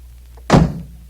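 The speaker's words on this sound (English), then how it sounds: "Goldilocks knocked boldly on the door" A single loud, solid knock on a wooden cottage door, one heavy thud with a short boomy tail, standing out against a quiet room.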